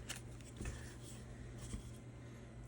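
Soft sliding and scraping of cards being pushed into the front of a Scudo wallet, with a couple of faint clicks and rustles up close and quiet.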